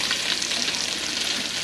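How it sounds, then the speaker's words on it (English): Bacon frying in a pan gives a steady, loud, close sizzle with dense crackling and spitting that carries evenly throughout, with no voices over it. "bacon always smells amazing when it's cooking"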